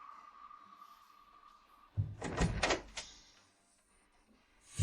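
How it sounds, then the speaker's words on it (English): An indoor door being opened, a short burst of clattering knocks and a thud in the middle after a quiet stretch with a faint hum, then fading back to near silence. "Go open the door."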